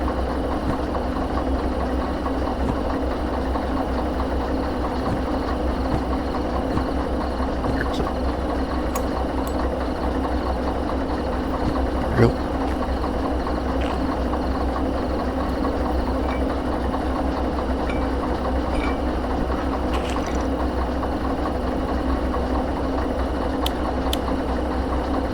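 A locomotive engine idling in the Derail Valley train simulator, a steady low droning rumble holding constant and loud throughout, with occasional faint clicks and a brief knock partway through.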